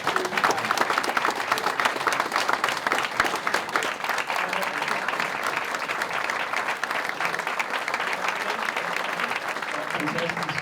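An audience gives a sustained, even round of applause for astronaut Andreas Mogensen at Lejre Museum, dense clapping filling the room without pause for about ten seconds.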